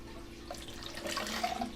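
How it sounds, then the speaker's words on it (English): Water poured from one cup into another, a soft trickling splash that builds toward the end, quiet and close. "Just literally pouring water out from one cup into another."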